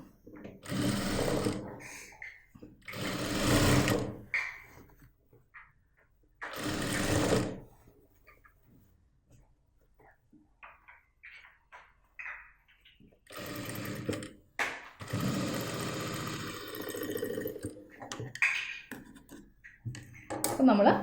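Domestic sewing machine stitching along the back neck of a blouse, in fast whirring bursts separated by pauses, close and loud, while someone talks between runs.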